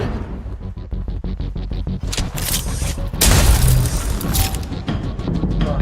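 A loud gunshot blast erupts in the video game ECHO, following a rapid ticking mechanical rhythm and leaving a heavy booming rumble that carries on afterward.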